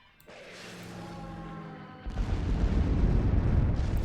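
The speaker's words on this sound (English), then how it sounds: "We're gonna bomb the guard." A bombing explosion in the World War II card game KARDS: a rising whine builds for about two seconds, then breaks into a loud, sustained rumbling blast that stays heavy to the end.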